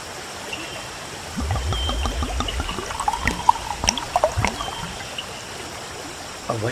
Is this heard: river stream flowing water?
yes